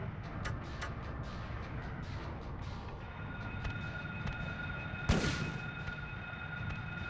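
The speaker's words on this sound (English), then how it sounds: "I will shotgun." A single shotgun blast from the Silent Hill video game, sharp and loud at about five seconds, standing out over a steady low game ambience with a faint distant rumble.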